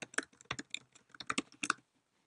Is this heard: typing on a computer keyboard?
yes